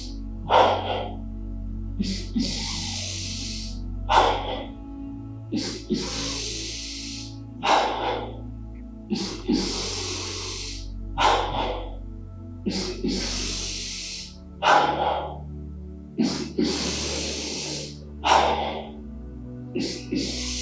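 Slow, deep breaths during a guided yoga practice, repeated long inhales and hissing exhales in a steady rhythm about every two seconds, close and clear with a low hum beneath.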